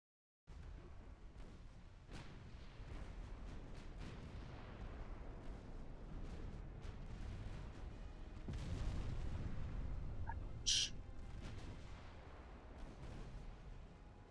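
Naval guns boom in the warship game Ultimate Admiral Dreadnoughts, a steady rumble of distant heavy fire that swells midway, with one sharp crack standing out near the end.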